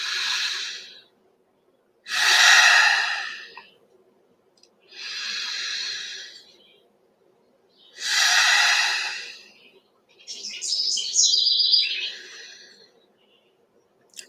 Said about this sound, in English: Breathing at your own pace,